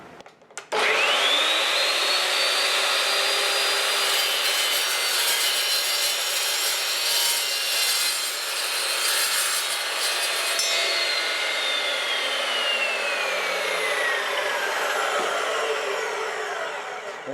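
An Evolution S355MSC metal cutting miter saw spins up with a loud, close whine and cuts through metal in one sustained, rising and falling screech, then the motor winds down.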